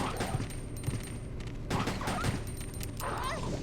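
Gunfire from Resident Evil Code: Veronica X, fought against dogs, comes as a few sharp bursts and shots over a dense game soundscape with yips and snarls, moderately loud, while a person talks now and then.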